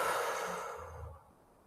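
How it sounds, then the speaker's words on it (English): A single slow exhale during a paced inhale-hold-exhale breathing exercise, close and soft, tapering off over under two seconds. "Exhale."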